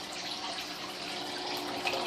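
Water from an aquarium tank filter falls in a steady, soft, continuous trickle, quiet and close with an even splashing texture.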